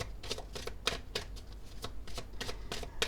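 Playing cards shuffled for a card reading, a steady run of quick, crisp riffling flutters repeating every fraction of a second, close and moderately loud, with no talking.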